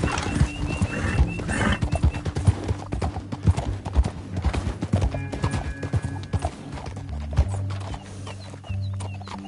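Horses' hooves clip-clop in a fast riding rhythm in the video game Red Dead Redemption 2, loud and close, with a horse's whinny and faint voices in the mix.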